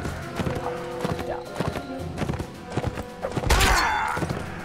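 Horse hooves gallop in the Mount and Blade Warband video game, a fast, steady clip-clop rhythm close up, ending in a louder surge that sounds like a rearing horse.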